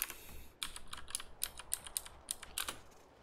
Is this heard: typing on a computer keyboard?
yes